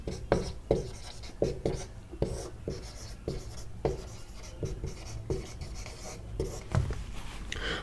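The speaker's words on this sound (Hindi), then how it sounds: "तो मैं यहां लिख देता हूं" Chalk or marker writing by hand on a classroom board during a chemistry lesson, a steady series of short scratchy strokes and taps, close and fairly loud, with the teacher's voice faintly between strokes.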